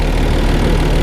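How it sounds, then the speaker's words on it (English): A 215-horsepower Isuzu boat engine running in a boatyard, a loud, steady low rumbling idle with a throbbing vibration, close and uninterrupted. "They're good little engine. It's a 215 Isuzu."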